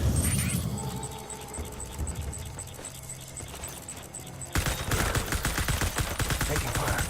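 Gunfire in the video game Death Stranding on very hard difficulty: a steady run of shots under game noise, then a sudden louder burst of rapid, dense fire for the last few seconds.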